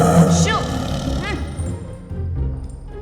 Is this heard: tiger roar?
yes